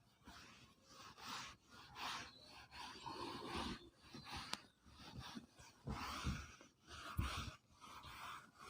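Rhythmic rubbing strokes of writing being erased from a board during a physics class, a soft, scratchy swish that repeats back and forth, quiet and close, with no talking.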